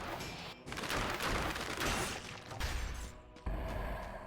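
Bombs dropped by bats explode in the Dead Cells game: a dense, noisy cluster of crackling blasts and crashes, with several abrupt low booms toward the end, moderately loud and without speech.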